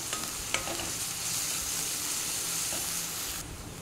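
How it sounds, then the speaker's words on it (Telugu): Grated ginger and garlic fry in hot oil in a pan for spicy chicken fry, giving a steady, dense sizzle with a few faint stirring knocks. The sizzle drops off abruptly near the end. "అల్లం వెల్లుల్లిని వేయించాలి."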